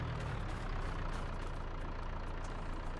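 Truck engine in Farming Simulator 22 rumbling at a low, steady idle, a dense continuous drone with no distinct changes, moderately quiet and without any talk.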